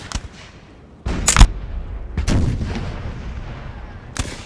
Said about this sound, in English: a bit of a gunfight going on